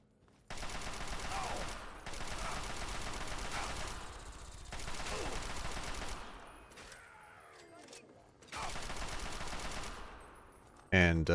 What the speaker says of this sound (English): Let's use our assault rifle.